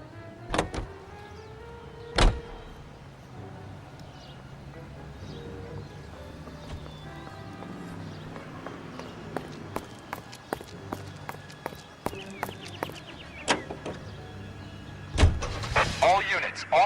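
A car drives in the video game L.A. Noire, a low engine hum running throughout with scattered clicks and thumps, louder bursts near the end.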